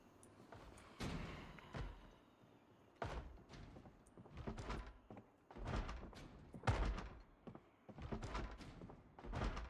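A zombie in the Project Zomboid video game pounds on a wooden door, heavy muffled thuds landing in irregular bursts with short gaps, fairly close and loud with no talking.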